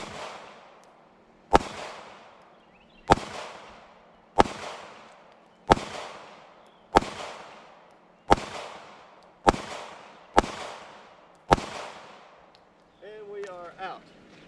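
Sig Sauer P365 pistol fired at playing cards outdoors: ten sharp, loud shots at an even pace about every one to one and a half seconds, each ringing out briefly, with faint voices at the very end.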